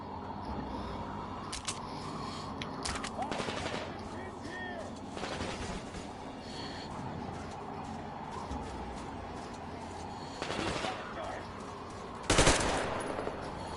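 Scattered gunshots ring out in the Metro Exodus video game, single cracks and short bursts spread irregularly over a low background, with one louder blast near the end.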